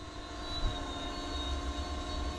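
A DJI Spark drone performing a quick shot flight hums with a steady, high-pitched propeller whine, continuous and fairly close, with a faint low rumble underneath.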